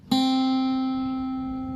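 A single guitar note plucked on the second string at the first fret rings out clearly after a brief silence, sustaining steadily and fading slowly, with bright overtones.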